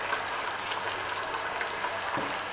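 Mutton and spices sizzle in hot oil for Peshawari namkeen gosht, a dense, even crackle of frying that continues without pause, close up, with no voices.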